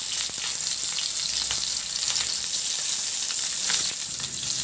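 Pork kasim sizzles and crackles steadily in its own rendered fat in a pan, a continuous close frying hiss with scattered pops and no talk.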